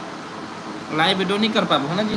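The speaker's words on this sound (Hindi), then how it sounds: "आवाज़ समझ नहीं आती काबर की हमन कूलर चला था भाई" An air cooler runs in a humid room, giving a steady whooshing whir alone at first before a voice starts talking over the continuous hum.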